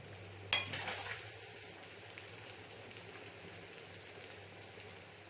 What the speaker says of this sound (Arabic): هنشوح بقى البصله بتاعتنا الباميه بتاعتنا مع البصله برضه